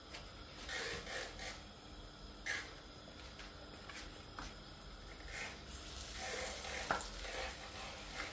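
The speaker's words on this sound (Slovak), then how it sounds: "No a pečieme jak rezeň" Sea pike frying in hot oil in a pan, cooked like a breaded schnitzel: a steady, close sizzle and crackle that holds throughout, with occasional brief scraping or spattering bursts and no talking.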